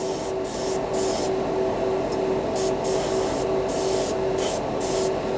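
A cheap Harbor Freight airbrush with its compressor sprays paint onto small model parts. The hiss is steady and close, broken by short pauses between bursts, with a constant compressor hum underneath.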